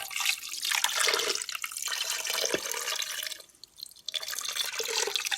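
Liquid pours steadily into an Instant Pot over a roast, a close, splashy stream that pauses briefly partway through and then resumes, with no voices over it.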